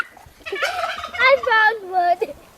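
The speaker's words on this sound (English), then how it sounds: "our chickens in our garden, trying to get them to prepare the soil and work up the dirt" Backyard chickens scratching up garden soil, with one bird giving a loud, close, warbling call that rises and falls over a couple of seconds.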